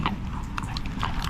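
A dog chews food up close, with wet crunching and biting noises running steadily through the short stretch and no voices.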